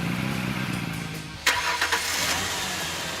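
Several machine engines crank over and settle into a steady running drone. A sharp start-up burst comes partway through, with a couple of smaller surges after it.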